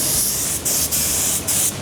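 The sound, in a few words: spray gun spraying black paint on car parts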